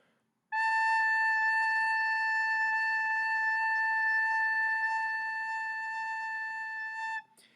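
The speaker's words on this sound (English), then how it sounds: "So now here's what an A sounds like." A single steady A note sustained on a wind instrument, fingered with the left hand only, rising cleanly and holding for about seven seconds before stopping, rich in even overtones, with no voices present.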